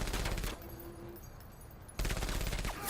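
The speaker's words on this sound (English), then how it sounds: "Pike, hit him with the pipe gun." Pipe gun in the video game MENACE firing in dense rapid bursts, loud and close, with a brief lull between two sustained volleys.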